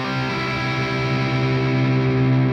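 Electric guitar with True Temperament frets rings out a sustained, effects-heavy chord on the third scale degree, a steady, thick, slightly distorted tone that holds evenly for a couple of seconds with no voices.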